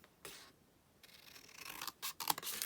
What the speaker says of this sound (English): what I would probably do is cut this down